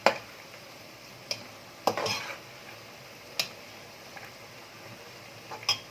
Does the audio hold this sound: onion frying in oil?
yes